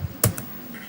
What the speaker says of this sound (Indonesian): Kemudian saya tekan enter di keyboard